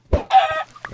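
A Minecraft chicken clucks when an egg strikes it, a short soft thump followed by a quick, nasal, game-style squawk and a couple of faint trailing clucks, close and unaccompanied.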